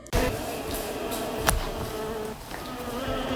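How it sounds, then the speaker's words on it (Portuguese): Native stingless mandaçaia bees at their hive make a steady, dense buzzing hum that stays fairly loud and close throughout, with one brief sharper accent partway through. "Essa é uma colmeia da abelha mandaçaia. Ela é nativa e sem ferrão."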